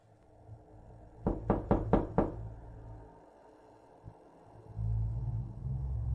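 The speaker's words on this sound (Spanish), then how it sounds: "Los golpes resonaron con más fuerza contra la puerta temblorosa" Five loud, booming knocks strike a trembling door in a horror cartoon, evenly spaced in quick succession, followed by a low rumbling ambience and quiet silence.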